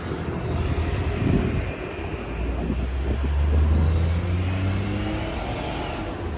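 Through traffic passing along an Osaka street near overpasses and tunnels: a steady broad roar of vehicles with an engine swelling and rising in pitch as it passes close by, over wind noise.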